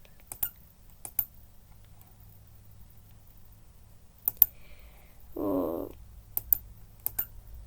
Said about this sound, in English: My finger is getting tired from all of the clicking.